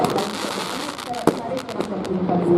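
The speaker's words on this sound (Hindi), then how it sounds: "इससे पहले बहुत ही खूबसूरत आतिशबाजी का नजारा है।" Fireworks pop and crackle overhead during an outdoor night display, with several sharp bursts, one standing out loud at mid-clip, over a steady wash of crowd chatter and distant crackling.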